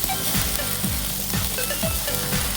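Garlic and serrano pepper butter sizzles with garbanzo beans in a pan, a steady frying crackle with a spoon scraping and stirring through it in repeated low strokes, close and alone with no talking.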